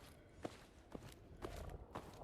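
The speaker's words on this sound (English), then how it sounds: "Do you hear that? We've got footsteps." Footsteps in Fallout 4 sound as four evenly spaced soft thuds over a faint ambient hiss, one step about every half second, moderately close, with no voices over them.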